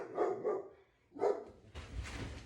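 A dog indoors barking at another dog outside, a few sharp close barks in quick succession, a pause, another bark, then a muffled rustle.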